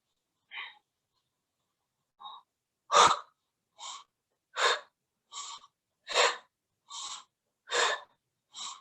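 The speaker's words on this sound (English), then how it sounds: "Inhale. I'm exhaling through my mouth." Deliberate breaths during yoga, forceful and close. A couple of soft short ones are followed by a steady series of strong, evenly spaced mouth exhales, each about half a second long with brief silence between.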